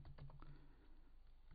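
Computer keyboard typing while entering code for an Android app in Kotlin: a quick run of close, soft key clicks over a steady low hum, with no talking.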